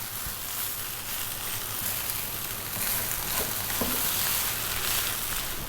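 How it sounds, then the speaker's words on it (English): Rice fries in a hot pan with potato, a steady loud sizzle and crackle that holds continuously throughout, close by and with no voices. "We actually do want to fry the rice nicely"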